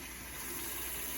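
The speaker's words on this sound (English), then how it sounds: "So we'll run a little water in here." Water runs steadily from a kitchen tap into a container while cauliflower, broccoli and other greens are being seed-started, a continuous close rushing with no voices.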